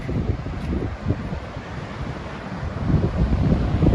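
Steady wind blows at a rocky waterfront campsite at Quobba, Western Australia, a continuous low rushing roar buffeting the microphone with surf-like swells that build toward the end.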